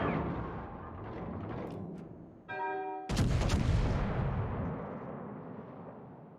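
Warship gunfire in World of Warships: a loud deep cannon boom following a rumbling lead-in and a brief tonal signal, then a long rolling decay, close and heavy.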